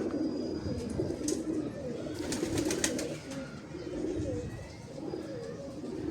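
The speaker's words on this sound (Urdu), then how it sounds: "تو یہ ماشاءاللہ سے فروز پوری پرندہ ہے جی, اور نسل کے قریب پرندہ ہے یہ اپنی" A Ferozpuri pigeon coos in low, rolling phrases that repeat across the stretch, close and moderately loud, with a few brighter chirps from other birds nearby and no speech.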